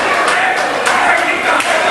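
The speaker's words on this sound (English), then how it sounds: "Listen to this crowd, Mike" A loud wrestling crowd roaring and cheering during a tag-team match, a dense continuous wall of voices from a packed arena with a few sharper swells.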